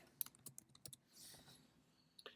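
Typing on a computer keyboard: a quick, faint run of light clicking keystrokes in an irregular rhythm, with a short pause before a final couple of taps.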